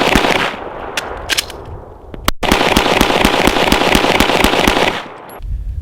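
Handgun fired at a shooting range in a fast, steady string of sharp cracks, dozens of evenly spaced loud reports with a brief pause near the start and an abrupt stop near the end.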